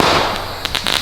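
A firecracker lit with a lighter goes off in a quick run of loud, sharp crackling pops, close by and with no voices.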